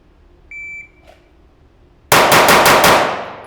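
A shot timer beeps once, and after a brief pause a handgun fires five rapid rounds in quick succession, loud and close, the sharp reports ringing out and trailing off.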